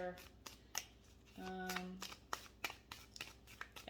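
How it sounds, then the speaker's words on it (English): A deck of animal oracle cards is shuffled by hand, several quick papery riffles and slides in a quiet room, with a soft voice speaking between them. "Let's go ahead and just pull some of the animal cards"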